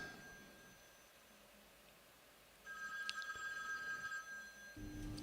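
A mobile phone rings during a live stream, a quiet, bright tonal ring that starts midway and repeats steadily for a couple of seconds before a low thump at the end.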